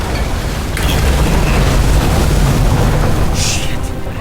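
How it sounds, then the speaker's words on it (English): Fuses blow in the video game Nobody Wants to Die: a loud, dense burst of crackling noise that fills the whole clip without a break, with a sharper pop near the end. "Fuses just blew."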